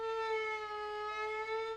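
A bowed viola note on the D string, sustained with gentle vibrato, rich in harmonics, steady and moderately quiet, played alone with no talk.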